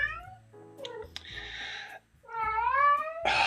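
A cat meowing several times up close, with drawn-out, wavering cries and caterwaul-like yowls separated by short pauses, and a brief noisy burst at the end.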